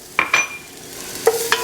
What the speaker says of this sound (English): Gonna add in our garlic here.